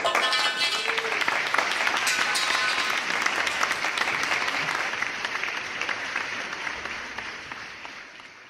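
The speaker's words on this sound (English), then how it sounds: "A great round of applause at home for everyone." Applause from a school end-of-year assembly: sustained crowd clapping, bright and fairly loud at first, slowly easing off toward the end, with no clear speech.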